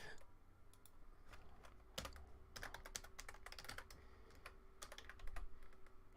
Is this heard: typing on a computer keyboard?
yes